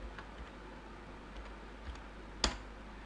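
Keys being typed on a computer keyboard while renaming a sheet in an Excel spreadsheet. A few soft, sparse taps lead to one sharper click near the end, quiet and close, with no speech.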